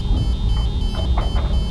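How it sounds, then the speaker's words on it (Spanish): Shrill alarms blare aboard a ship, a loud, continuous, pulsing electronic wail with a steady high tone filling the whole stretch. "Las alarmas chirriaban con un estruendo ensordecedor"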